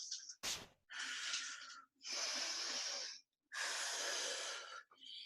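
Heavy, forceful breaths out during a home workout, three long hissing exhales with short gaps between them, close to the microphone and loud.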